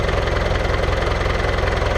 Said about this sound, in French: Par contre, je laisse le moteur en marche, je vais devoir l'avancer.